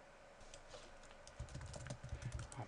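A username and password typed on a computer keyboard, quiet clicking keystrokes that start sparse and grow into a quick, irregular run of taps.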